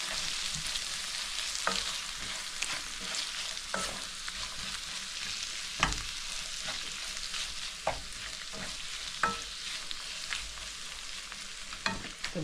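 Meat and vegetable samosa filling frying and being stirred in a pan, a steady close sizzle throughout with repeated scraping and clacking strokes of the spoon at irregular intervals, no talking.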